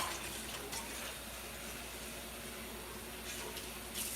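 Tap water runs steadily into a big cooking pot as it gets rinsed in a kitchen sink, a continuous soft rushing splash at low level with slight swells, no talking.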